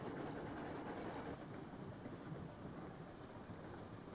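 Train wheels roll over rails in the railroad game Railroads Online, making a dense, steady low rumble with faint rhythmic clatter, heard alone without talk.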